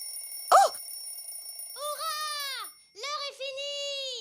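A cartoon alarm clock rings in a kitchen: one short burst, then long warbling electronic tones in two stretches, clear and fairly loud.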